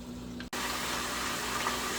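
Rabbit fries in a pot with a loud, steady sizzle and crackle that runs close and unbroken, after a brief lid clatter near the start.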